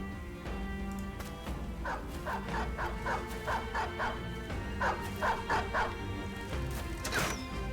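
War dog barking in the medieval strategy game Battle Brothers, rapid repeated yips and barks in two bursts of about eight, with a whimper and a crash near the end, moderately close over a low game backdrop.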